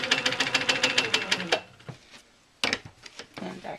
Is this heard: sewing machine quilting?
yes